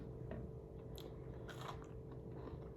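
Cookies are bitten and chewed up close, giving a few soft crunches and moist mastication sounds over a steady background hum, with no voices.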